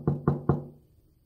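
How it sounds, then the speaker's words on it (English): Three firm knocks on a door in an even rhythm, close and fairly quiet, the last one ringing out briefly into silence. "Does he knock on the door like this?"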